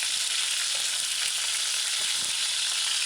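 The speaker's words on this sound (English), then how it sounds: "And allow it to fry" Chicken pieces fry in a pan for a rundung coconut stew, giving a steady, even sizzle of hot oil, continuous and close with faint crackles and no voices.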